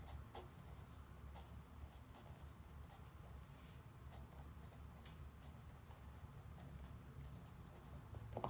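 Marker or pen writing on a classroom chart during a lesson, soft continuous scratching strokes close by over a steady low room hum, with no talking.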